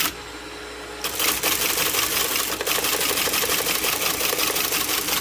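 A Teletype M28 ROTR read-only typing reperforator teleprinter starts up and runs: a steady, dense mechanical clatter of rapid typing strikes that carries on continuously and close by once the machine kicks in.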